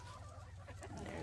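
Chickens cluck softly near their winter housing, with sheep passing nearby, a faint, steady murmur of fowl sounds at a moderate distance and no talking.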